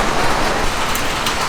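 Steady rain falls on a rainy day, a dense, loud, even hiss of drops on surfaces that continues alone without a break.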